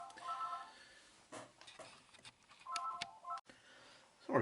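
A telephone rings in short, faint electronic bursts in a quiet room, sounding a few times with brief gaps between rings.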